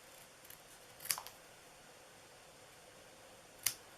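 Scissors snip through ribbon for a Christmas treat bag, two crisp isolated cuts about two and a half seconds apart against a quiet room.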